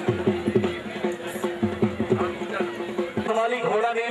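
A horse gallops in a race at the 2009 Jashn-e-Kharian event with a quick, regular beat of hooves. A loud announcer talks over the hoofbeats throughout.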